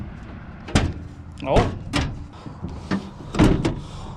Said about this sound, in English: let's see if I can even get this hood open